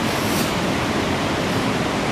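Ocean surf from a long west-northwest swell with waves of about three metres, heard as a continuous broadband roar of breaking water with no distinct separate crashes and no voices.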